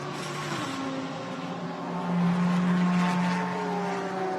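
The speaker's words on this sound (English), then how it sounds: "Rumble of a Mercedes engine accelerating down the pit lane" Mercedes GT race car at the Thailand round of Blancpain GT Series Asia 2019, its engine droning and rising in pitch as it accelerates down the pit lane, heard at moderate distance over steady background noise.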